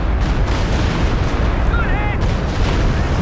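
Artillery barrage in Company of Heroes 2, a continuous roar of distant booms and rumbling blasts with faint whistling shells overhead, loud and sustained under the battle noise.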